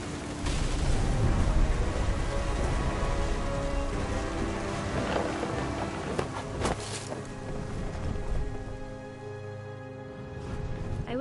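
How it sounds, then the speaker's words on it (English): In the video game What Remains of Edith Finch, thunder rumbles over steady heavy rain, a dense, continuous wash with a louder crack partway through. "The thunder sounded much too close and full of angry power."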